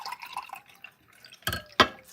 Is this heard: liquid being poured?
yes